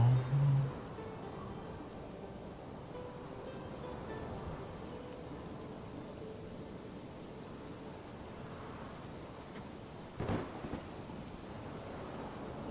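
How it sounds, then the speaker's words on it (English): A steady roar of rain and wind fills a thunderstorm in the Manor Lords video game, with a short louder rumble near the start and another crack of thunder later. "Big fight in a big storm."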